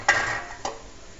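A lid is set down onto a pan of frying spring-roll filling made with jicama: one clear clank followed by a second softer knock about half a second later, close by, over a faint background hiss.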